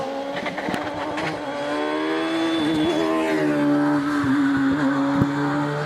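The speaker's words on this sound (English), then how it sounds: "On the hill is Andrew Patterson in this well-known car here in Scotland, the PCD Saxon" PCD Saxon race car climbing the Doune hillclimb course in Scotland, its engine revving loud and close with rising and falling pitch through gear changes, carrying steadily over the whole stretch.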